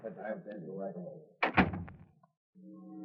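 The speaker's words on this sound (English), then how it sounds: "Then the door opens and you get a shock." Door opening as a sound effect in a 1940s radio crime drama, a single solid thunk and creak in the middle, between stretches of someone speaking.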